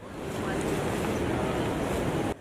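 Sea waves washing onto the beach at Pantai Serai, Lampung, a steady broadband rush of surf mixed with wind noise, loud and continuous before cutting off abruptly at the end.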